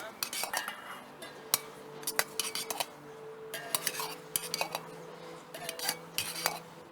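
Tempura batter of egg, water and flour is stirred in a bowl, with utensils clinking and scraping against it in quick, irregular bursts at close range, and no one talking.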